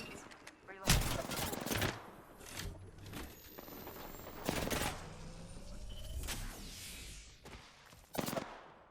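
Gunfire in Apex Legends: several sharp, loud shots and short bursts crack out at irregular intervals over a busy, rumbling battle backdrop, some close and punchy, others thinner and farther off.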